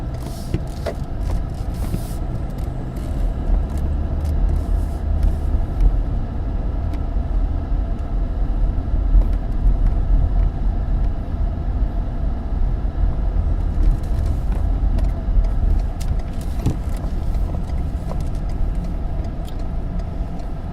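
Street traffic rumbles steadily, with cars passing in a continuous low drone and occasional faint clicks and knocks nearby.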